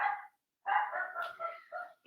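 A small pet dog at home gives a short volley of high, yappy barks and whines, close and fairly loud, with a brief pause between bursts.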